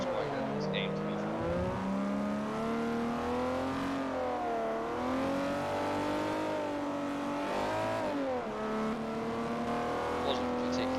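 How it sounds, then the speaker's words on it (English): A Ferrari 250 GTO's engine in the racing game Forza Motorsport 4 drones loud and steady throughout, its revs repeatedly rising and dipping as the car is driven hard, with a faint tire squeal. "The 250 GTO sounds quite good in this game, to be fair."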